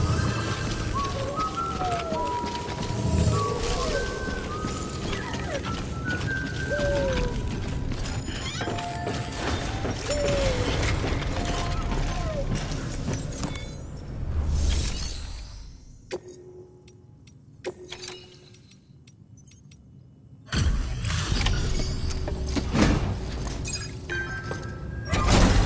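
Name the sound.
suit decontamination machinery in video game Death Stranding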